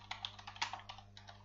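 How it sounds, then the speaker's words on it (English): Rapid keystrokes on a Windows computer's keyboard as a command is typed, a quick uneven run of light clicks close by with no talking. "I can verify this by typing the"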